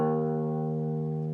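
Open low E string on a guitar plucked once, sustaining a steady, close, humming low note with rich harmonics that ring evenly throughout.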